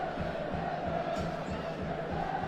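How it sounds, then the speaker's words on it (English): Bradford Bulls rugby league supporters boo and jeer during a Halifax Panthers versus Bradford Bulls match, a dense, steady crowd roar with rhythmic low swells filling the stadium throughout. "Bradford supporters booing and jeering"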